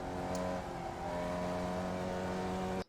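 Formula Vee race car in iRacing at Lime Rock Park GP, engine droning steadily with shifting harmonic tones as it downshifts toward a corner, loud and close throughout before cutting off abruptly at the end.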